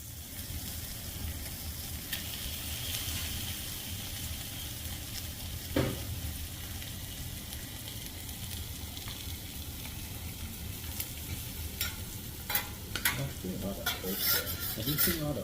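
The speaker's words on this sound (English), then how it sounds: "a chef is making that shrimp on the teppanyaki" Shrimp frying on a teppanyaki griddle, a continuous close sizzle with occasional spatula taps and metallic clinks toward the end.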